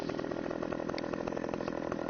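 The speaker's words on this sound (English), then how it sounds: "To drive a chainsaw through a tree, you have to keep the indicator button pressed." Video game chainsaw from Farming Simulator 17 cutting into a tree, a steady, loud buzzing whine that holds constant for the whole stretch with no voices.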